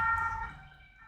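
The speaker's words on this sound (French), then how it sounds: "avec la sirène qui passe" Siren of a passing emergency vehicle wailing with steady tones, fairly faint and in the distance, fading slightly as it goes.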